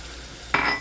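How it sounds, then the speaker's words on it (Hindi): Milk is poured into a hot pan while making walnut halwa, with a sudden loud sizzling hiss that bursts in midway and holds before fading slightly, close up with no talk. "तो अब हम इसमें डाल देंगे मिल्क, दूध डाल देंगे"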